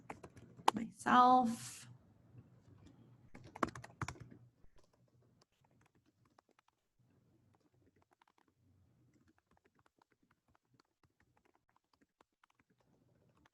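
Brief typing on a computer keyboard, a short burst of clicks followed by a second cluster, heard under a spoken word and then giving way to near silence.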